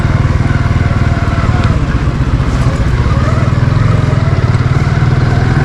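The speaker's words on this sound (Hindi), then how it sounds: "देखो कितनी देर से मोटरसाइकिल चला रहा हूँ।" A motorcycle is ridden steadily down a long street in the Eid Gah area, its engine droning loud and close the whole time with a constant rumble and wind noise.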